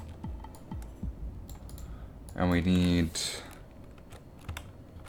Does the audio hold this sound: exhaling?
no